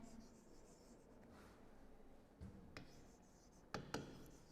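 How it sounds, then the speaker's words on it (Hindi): Names written by hand in a quiet room, soft scratching and rubbing strokes of pen on paper, with a few sharper taps and scrapes near the end. "अब मैं दोनों के नाम लिख देती हूँ।"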